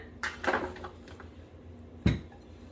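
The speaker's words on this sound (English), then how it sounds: "we are going to put them in our pan" Oat burger patties set down into a pan at home, giving a few soft clattering knocks and a sharper clunk near the end, fairly quiet with no talk.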